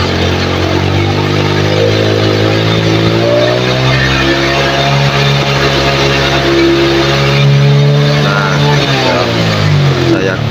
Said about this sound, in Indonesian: Tak gas penuh mas.